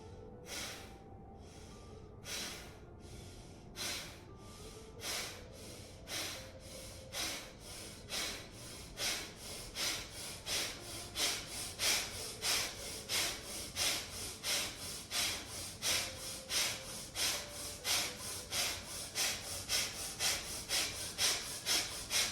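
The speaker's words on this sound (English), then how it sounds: "Hands in Alapadma, one cycle of Bhastrika or abdominal breathing." Rapid bellows breathing in Bhastrika yoga practice, forceful nasal exhales pumping in an even rhythm that speeds up and grows louder, dozens of sharp close snorts with quiet music faintly behind.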